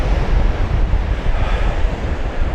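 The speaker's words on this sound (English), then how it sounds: "coming back now with a bit of wind behind me, it's just blowing me along" Strong wind roars and buffets past a cyclist riding along the seafront at Marazion, loud and continuous with surf-like rushing and heavy low rumble, no talking.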